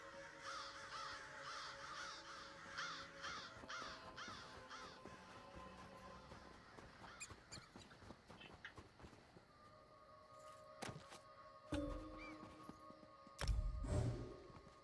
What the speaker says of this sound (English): there's all these crows hanging around this shed